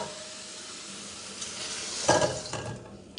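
Shrimp go back into a hot pan and sizzle in a steady hiss that swells sharply with a clatter midway. Stirring and utensil knocks can be heard close by, with no talking.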